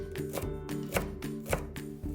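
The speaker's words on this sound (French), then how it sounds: "Pour les poireaux, on va prendre une moitié pour faire des fines tranches et l'autre moitié pour faire des tranches" A knife slices leeks on a cutting board for Korean tteokbokki in quick, even chops, about four crisp taps spaced roughly half a second apart, close and fairly quiet.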